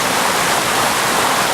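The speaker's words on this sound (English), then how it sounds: "Lovely waterfall. It's actually three streams that join" A waterfall in Wales, fed by three streams joining, roars with a steady, dense rush of falling water, loud and close, with no voices.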